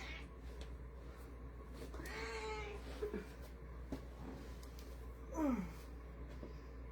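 A pet cat gives a few soft, drawn-out meows indoors during a floor workout, faint over a steady low hum, with a brief clearer cry near the end.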